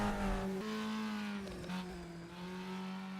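A touring car in a Reiza racing video game revs hard as the inside rear wheel spins up, the engine note holding steady then dipping and rising again, fairly close and continuous.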